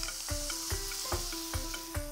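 Half a large capsicum fries in a pan with a steady close sizzle, broken by regular stirring knocks roughly every half second.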